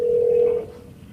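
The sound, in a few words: telephone dialing 911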